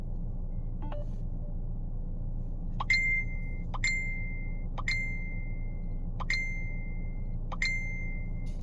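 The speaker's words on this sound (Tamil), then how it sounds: "பாருங்க மெசேஜ் வந்துகிட்டு இருக்குது, சரியா?" Messenger app notification chimes sound five times in an irregular sequence, each a short bright two-tone ding, over a steady low background rumble in a home setting.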